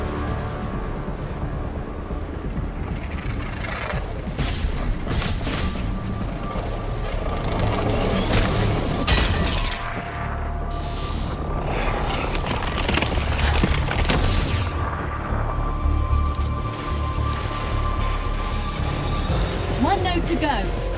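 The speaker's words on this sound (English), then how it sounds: "Thunderbolt missiles away." Thunderbolt missiles exploding in the video game Iron Man VR, repeated booms and bursts over a steady mechanical rumble, loud and dense throughout, with voices talking over the action.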